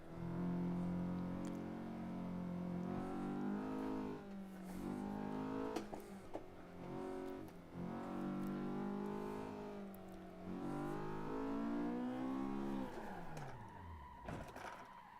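A JS Racing Honda S2000 on the Gunsai Touge mountain road in Assetto Corsa, its engine droning loud and close and rising and falling in pitch through shifts and revs, with no voices.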